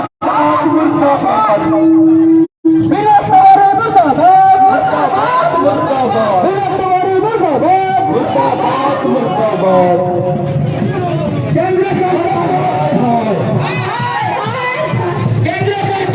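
Thousands of Adivasi protesters fill a road at the Marangburu Parasnath rally, shouting and cheering loudly and continuously with raised, overlapping voices; the roar cuts out only for a brief moment early on.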